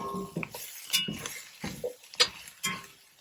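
Carrots, Belgian endive and grape tomatoes being stirred together in a pan, with a series of soft clinks, scrapes and taps of a utensil against the metal in an irregular rhythm, fairly quiet and close.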